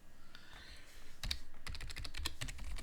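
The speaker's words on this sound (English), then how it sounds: "Type your password in properly." A run of quick keystrokes on a computer keyboard while a password is entered during a Linux Mint installation, close and clear, in a brisk uneven rhythm with no talking.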